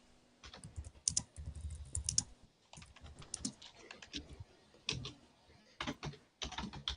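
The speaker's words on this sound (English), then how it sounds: "She's busy typing." Fingers type on a computer keyboard in uneven bursts, with quick close clicks and brief pauses between runs of keystrokes, fairly quiet and with no voices.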